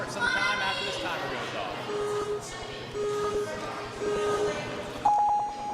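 A start timer at a youth ninja competition sounds three evenly spaced countdown beeps a second apart, then a higher, longer final tone, clear over steady crowd noise and an announcer talking.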